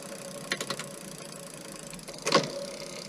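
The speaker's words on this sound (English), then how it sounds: "I'll just push the throttle and the chain goes around" A Bafang mid-drive e-bike motor whirs faintly as the chain turns, with a couple of brief mechanical bursts of gear and chain noise over a quiet background.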